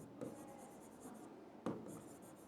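Someone writes on a classroom board with scratchy, rhythmic strokes in two bursts, close and clear in a quiet room with no talking.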